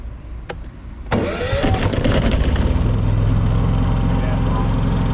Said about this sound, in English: Let's get this thing started up.